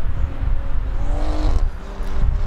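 A tuned BMW G20 M340i, pushed past 700 horsepower, roars with an aggressive engine and exhaust note, revving up in rising pitch sweeps before a brief dip and then pulling again, loud and close.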